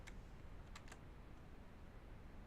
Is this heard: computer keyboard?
yes